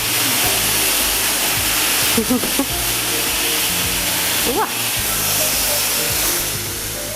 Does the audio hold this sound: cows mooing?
no